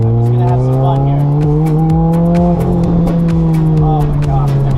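A 2008 Lotus Exige S240 driven hard, its engine holding a loud, steady high-pitched tone close by, with a sustained tire squeal and rising and falling revs throughout.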